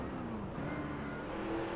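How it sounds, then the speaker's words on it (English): Simulated NASCAR Next Gen race car engine from NASCAR Racing 2003 Season at Road America, rumbling loudly and continuously through three quick downshifts before a right-hand turn, with steady droning pitch shifts and no talking. "3 quick downshifts, and we were able to close in"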